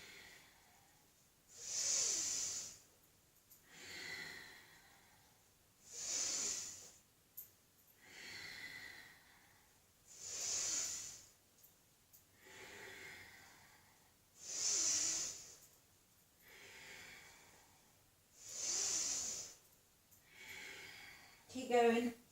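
Repeated forceful breaths during a Tibetan Rites exercise, sharp hissing exhales and softer inhales alternating in an even rhythm about every four seconds, close and clear against a quiet background.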